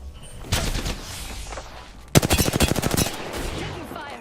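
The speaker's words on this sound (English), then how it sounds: "Bad boys are shooting at me." Loud automatic gunfire from Apex Legends erupts in bursts, with a tight rapid volley in the middle after scattered shots and reverberant tails.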